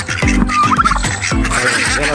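A male turkey on a farm gobbles loudly and close, a rapid warbling rattle repeated in quick bursts with no voices.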